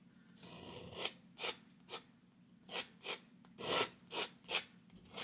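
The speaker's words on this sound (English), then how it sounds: "Pushing that paint in and scraping it off" A palette knife pushes oil paint onto a canvas and scrapes it off in a Bob Ross–style landscape painting, giving a series of about nine short, close raspy strokes over a low steady hum.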